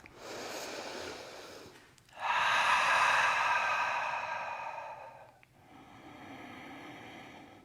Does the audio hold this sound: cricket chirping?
no